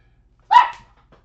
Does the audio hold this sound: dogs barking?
yes